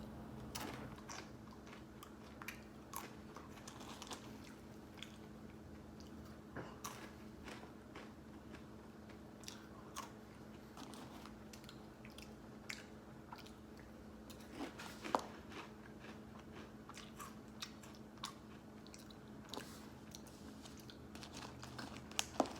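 Close, quiet crunching as someone chews Pik-Nik shoestring potato sticks, a string of small crisp bites and crackles spread through the stretch, with occasional light rustling and no talking.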